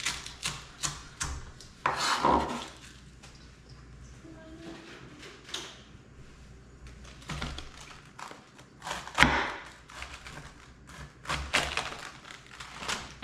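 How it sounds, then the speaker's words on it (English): Knife slicing through fresh Alaska garden cabbage for sauerkraut, a run of crisp close chopping strokes in irregular bursts with louder thunks against the board, under some quiet background noise. "So just keep slicing each cabbage."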